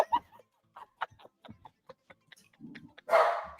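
A dog gives a short, loud bark-like burst near the end, after a run of choppy speech-like sounds.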